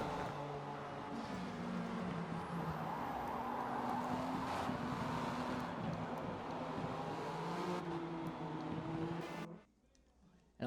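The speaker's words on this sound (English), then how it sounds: "With a little bit more hypercar traffic scooting by" Hypercars scoot past in a Le Mans racing video game, steady engine drones with shifting pitch sweeping by continuously, loud and close, then cutting out abruptly near the end.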